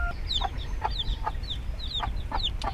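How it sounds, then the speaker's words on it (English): A brooding hen clucks softly among her five newly hatched baby chicks, with high, thin peeping chirps repeating steadily over a constant low background rumble. "Number 2 has 5 baby chicks."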